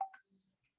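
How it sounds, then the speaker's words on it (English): A mobile phone gives off a brief, faint electronic alert, a couple of quick tonal blips lasting under a second, heard alone. "oh yeah, sorry, that was my phone"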